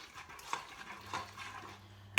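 A spoon scrapes and taps while stirring chilli con carne in a pressure cooker pot, a few soft near strokes ending in a sharper clack.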